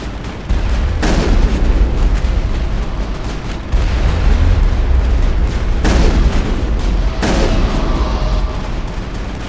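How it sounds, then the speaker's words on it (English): Heavy artillery fire in the Mass Effect video game booms repeatedly over a constant rumbling battle backdrop, several loud blasts landing every couple of seconds. "There's the artillery that's keeping the Normandy at bay."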